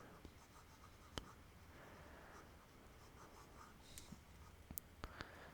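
A pen scratches steadily across paper while notes are written, a soft continuous scribbling with a few sharper taps, close and quiet with no talking.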